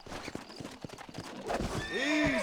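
A wild horse in the video game Red Dead Redemption clops across the ground in quick uneven hoofbeats, then lets out a loud neigh, close by.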